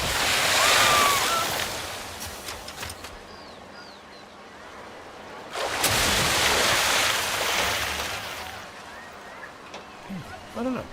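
Water coaster cars splash through two splash zones in a Planet Coaster 2 theme park, giving broad rushing, surf-like washes that swell at the start and again midway, with faint ambient park sounds between.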